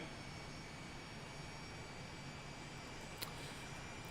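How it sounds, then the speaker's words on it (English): Aermacchi MB-339 jet engine spooling up in the MSFS2024 flight simulator, a steady broad roar with a high whine and a brief click partway through, no voices. "Good engine start."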